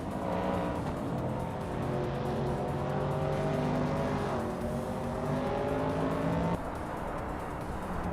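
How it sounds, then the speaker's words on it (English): A 1969 Chevrolet Camaro in a video game race, its engine droning loud and steady with rising and falling revs across gear changes, tire noise underneath, and no voices. "Amy is driving a 1969 Chevrolet Camaro."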